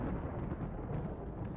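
Thunder rolling through a flash storm in the RimWorld game, a brief, loud, low rumble that holds steady without any distinct cracks or speech.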